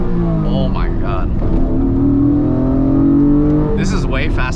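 Honda NSX NA2 sports car with top Tech brakes, widebody kit and TE37 wheels, its engine droning steadily while accelerating on a canyon road, heard from inside the cabin with people talking over it.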